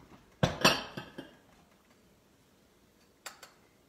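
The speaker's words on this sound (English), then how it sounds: "let me get a couple of bowls" Bowls and dishes are taken out in a home kitchen, a couple of sharp ceramic clinks and clatters up close, then a pause before two lighter knocks later.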